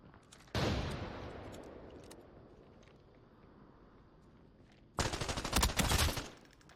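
Scavs in the video game open fire in two loud bursts of rapid gunfire with a quieter stretch of distant shots between them.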